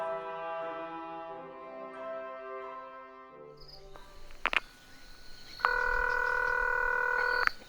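Phone call being placed: after a quiet musical tone fades, a few short touch-tone beeps sound, then a steady ringback tone hums for about two seconds, with no one speaking.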